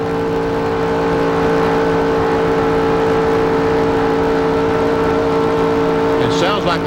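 Stock cars racing at Daytona in the 1996 Goody's 300, engines droning loud and steady at full throttle, with a brief change near the end.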